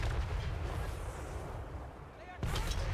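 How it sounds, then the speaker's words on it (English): Cannon fire in the battle game Total War Warhammer 3, a Hell Cannon-style artillery exchange: a dense, rumbling battle din with a loud, sharp boom bursting in near the end. "this one cannon model is going to turn and start shooting at Khorne's Bloody Fist"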